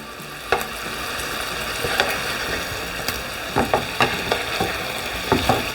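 Duck meat sizzles steadily in a hot pan after being flipped, with a constant frying hiss broken by occasional clicks and taps from a utensil against the pan.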